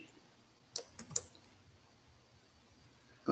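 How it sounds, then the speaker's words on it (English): Typing on a computer keyboard, a few quiet, separate key clicks in a short burst and then one more near the end, faint against a low background hiss. "So I'm going to type it here"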